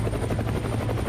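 In a comic audio drama, a helicopter flies with a steady, dense rotor thrum and a low droning hum, loud and constant throughout the short stretch.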